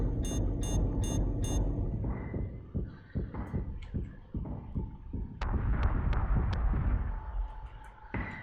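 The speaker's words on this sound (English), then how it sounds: "I bet you can fire your guided missile now" Guided missile launches and detonates in the space combat game Battlestar Galactica Deadlock, a string of heavy booms and thuds over a dense rumbling bed, with sharp high bursts near the start and a brighter crackling explosion later on.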